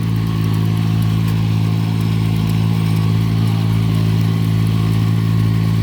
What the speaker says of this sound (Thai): เป็นเครื่องดำนาแบบนั่งขับรุ่นนี้จะ